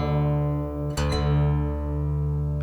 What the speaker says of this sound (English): tuning it down to the note D.